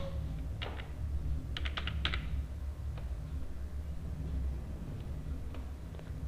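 Typing on a computer keyboard while writing Java code, faint quick clusters of key clicks in short bursts over a low room hum, no voices.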